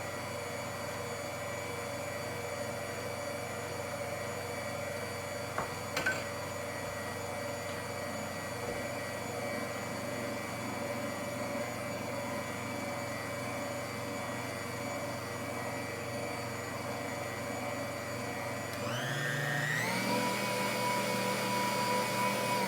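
An electric stand mixer kneading sweet roll dough hums steadily and loudly for a long stretch, then its motor pitch rises sharply near the end as the speed goes up.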